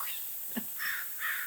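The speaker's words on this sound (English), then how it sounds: "Wait for the crow." A crow caws outdoors: two harsh, rasping calls spaced a moment apart, moderately near, against a steady background hiss.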